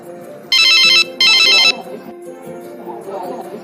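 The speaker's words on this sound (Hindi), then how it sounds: "अरे ये तो माँ का फोन है" A mobile phone ringtone plays two loud, bright bursts of electronic tone in a Hindi household as a mother calls, then drops away into a woman's speech.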